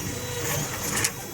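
3D printer at work on the second half of a model plane fuselage in a home workshop shed, a steady whirring mechanical drone with faint stepping motor tones, close and continuous.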